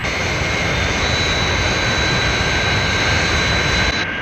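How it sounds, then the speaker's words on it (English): Fireflash jet airliner flying overhead, a loud, steady jet engine roar with a broad high whine that holds for several seconds and cuts off abruptly near the end. "That's certainly some aircraft."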